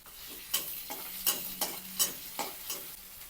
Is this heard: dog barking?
no